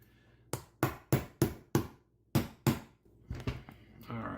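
Sharp metallic taps of a hammer's side striking a pin in a CZ-75 pistol during gunsmithing, about eight distinct close blows in an uneven rhythm, followed by softer handling noises.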